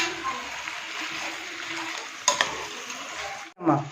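Country chicken curry gets stirred in a pan after salt goes in, a soft scraping and bubbling sizzle with a sharp clink of the utensil partway through and a clatter at the end, while people talk nearby.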